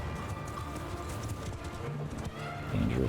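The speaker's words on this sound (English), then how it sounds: "Horses move in." Horses in Mount & Blade II: Bannerlord advance in a river-crossing battle, a steady mass of clip-clopping hooves with occasional whinnies over continuous dense battle noise, rising slightly louder near the end.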